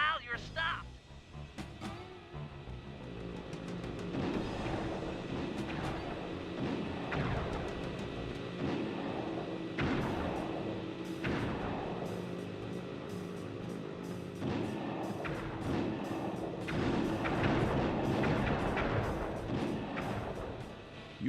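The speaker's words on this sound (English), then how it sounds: "press the square button to fire its turret" A vehicle's turret in Sly 2: Band of Thieves fires a string of booming, evenly spaced shots, one roughly every two seconds over a rumbling engine, with people talking throughout.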